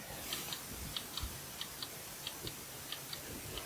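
An old clock with all-brass workings ticks steadily, faint, crisp and evenly paced against a soft room hiss, with no voices.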